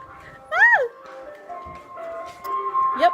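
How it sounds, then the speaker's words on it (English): An ice cream truck plays its jingle on a street in Jamaica at Christmastime, the thin, steady melodic tones sounding faintly and fairly distant beneath a voice and other nearby chatter. "The ice cream truck is here,"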